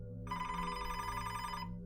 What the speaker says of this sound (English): the phone would ring